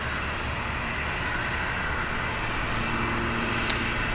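An E-Star Boeing 737 jet airliner at Gimpo International Airport in Seoul gives off a faint, steady, distant roar heard from an observation deck.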